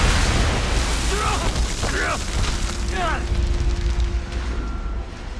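A frigate explodes in the video game Mass Effect 3, a loud sustained rumbling blast with crackling bursts and a ringing tone layered over dense roaring noise.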